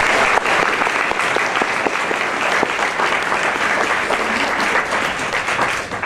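Steady, dense applause fills a hall as an audience welcomes speakers Tilly and Parker at the JCC for a WWII talk, loud and continuous for about six seconds before tapering slightly at the end.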